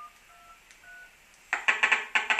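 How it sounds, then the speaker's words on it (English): A mobile phone dials the speaking clock: a few faint tones, then a quick run of about eight loud keypad beeps in an uneven rhythm, heard alone. "if I just dial the speaking clock on my mobile phone"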